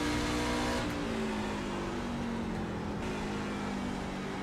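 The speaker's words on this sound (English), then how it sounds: "Then you hear the gear change to gear 3 again." Race truck engine at Gateway track droning steadily at high revs, its pitch dropping once as a gear changes, with a faint higher whine above.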